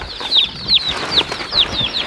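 Chicks and turkey poults cheep in a brooder on a cold, rainy homestead morning, repeated high, shrill peeping calls coming in a quick, steady rhythm close by, with no talking.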